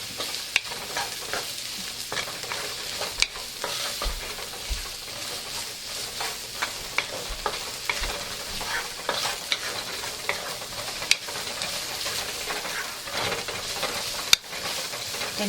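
Onions sauteing in oil in a pan for shepherd's pie give a steady, close sizzle and crackle, with scattered stirring scrapes and small pops throughout and no talking.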